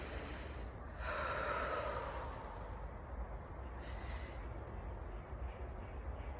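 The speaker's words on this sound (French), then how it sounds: "Prenez une profonde inspiration." A single deep, slow breath drawn in during a calm guided meditation, a soft, close airy rush that swells around the first two seconds and then fades into quiet room hiss with faint breathy traces.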